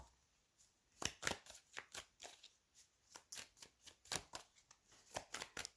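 Tarot cards being shuffled and laid down: a quiet run of sharp, crisp card snaps and slaps in an irregular rhythm, close up with no talking.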